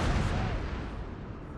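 Canister shot from an artillery piece in Napoleon: Total War, a single loud, close, broadband blast that decays raggedly over about a second and a half.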